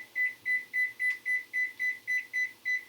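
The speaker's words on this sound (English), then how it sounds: "And then I'm going to set the timer on the oven." An oven timer beeps about ten times in a fast, regular series of short, clear electronic tones, close and fairly loud over a quiet kitchen.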